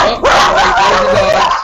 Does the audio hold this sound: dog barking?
yes